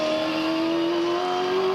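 A V8 Supercar at a 2012 International Supercars race in Tasmania screams past at close range, its engine note a loud, sustained high-revving tone that climbs slightly in pitch through the pass.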